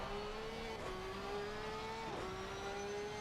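A Porsche GT3 race car in a racing video game at Bathurst screams through the gears, its engine note rising, dropping with two upshifts, then climbing again, steady and fairly quiet.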